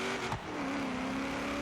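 A car engine strains and bogs in second gear, a continuous low, labored drone with a brief dip before settling into a flat, sluggish hum.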